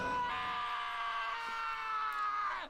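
A sustained, shrill scream from Taka in the video game Danganronpa, one loud unbroken wail held for over two seconds and then cut off sharply, heard alone with no talk around it.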